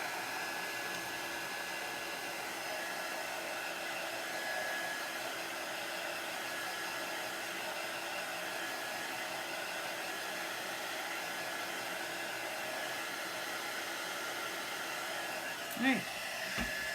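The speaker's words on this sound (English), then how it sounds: "I'm using a heat tool, which is a very high concentrated heat." A high-heat craft heat tool blows steadily while drying chalk paste on a handmade porch sign, a constant loud whooshing hiss running unbroken from start to finish, with a brief click near the end.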